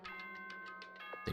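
The announcement chime from Danganronpa: Trigger Happy Havoc rings as a brief series of bright, bell-like tones over a steady sustained pitch.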